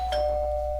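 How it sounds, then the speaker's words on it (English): A doorbell in the visual novel Doki Doki Blue Skies sounds one bright, near chime that rings out and decays over a low steady hum, with no talk. "nothing like a doorbell to jolt you out of a blissful slumber, I'll say"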